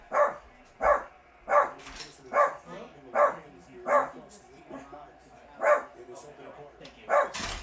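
A dog named Cowboy barks about eight times in a steady, evenly spaced rhythm, loud and close, with voices talking in the background.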